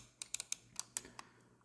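A Logitech M185 wireless mouse gives about eight quiet, crisp clicks in an irregular rhythm, close up and alone.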